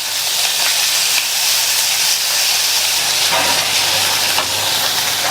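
Tomatoes sautéing in a pan for chapathi kurma give a steady, close, loud sizzling hiss that holds evenly throughout without pause.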